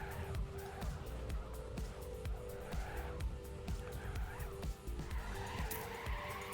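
Cars drift through corners with continuous tire squeal and engine roar in a TrackMania racing match, the skidding steady and prominent throughout, broken by quick repeated ticks.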